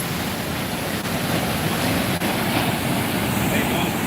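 Ocean surf washes steadily along a shoreline lined with homes, a dense, continuous roar of waves mixed with wind noise on the microphone.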